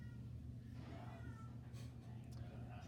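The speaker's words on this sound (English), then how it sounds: "Cats are a little worked up again today." Worked-up house cats meow indoors, a few drawn-out, wavering cries rising over a loud low hum, with a faint conversation nearby.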